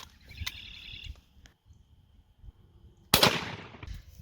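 A single sharp, loud shotgun blast at a turkey outdoors, followed by a decaying rumble. Quieter rustling and faint thumps come before it.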